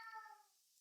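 A house cat lets out one short, faint meow with a clear tonal quality that trails off quickly, heard alone.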